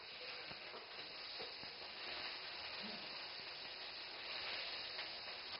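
Shrimp heads frying in shrimp oil, a steady soft sizzle and hiss with a few faint pops, continuous and fairly quiet throughout.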